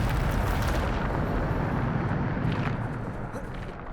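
A Bombarda blasting spell goes off in Hogwarts Legacy, a loud rumbling explosion that starts at full force and slowly decays across a few seconds, with a couple of crackling bursts inside the wash.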